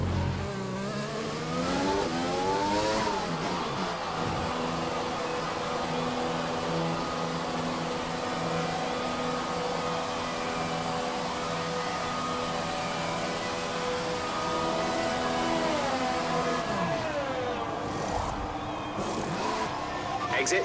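A Formula 1 car engine in the F1 2020 video game screams as it accelerates, upshifts with rising and falling pitch early on, then holds a steady high-revving drone before another downshift and climb near the end.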